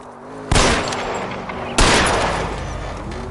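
Two loud, close gunshots a little over a second apart in a video game, fired at a car's tires during a chase, each with a long echoing tail.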